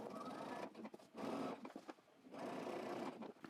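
A sewing machine stitches trench coat fabric in two loud, whirring runs with a brief pause and a short stop between them, close and steady, with no talking.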